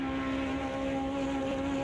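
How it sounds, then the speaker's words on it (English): A sim racing game's race car engine drones at steady idle-like revs, a sustained tonal hum with strong harmonics and no voices over it, holding level throughout. "the engine fires back up and Norchie accelerates heavily out of the pit lane"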